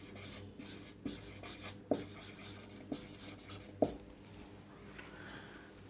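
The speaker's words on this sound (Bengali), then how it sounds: "আমরা এখানে লিখে নিই।" Chalk or marker strokes on a board during a mathematics lecture, soft scratchy bursts with a few sharper taps, close and moderately quiet over a faint room hum, no talking.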